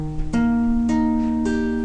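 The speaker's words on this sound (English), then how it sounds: "That 5th string at the 6th fret is an E flat." A single electric or acoustic guitar note, E flat on the fifth string at the sixth fret, is plucked three times in a row, each ringing clearly and sustaining close by before the next pluck.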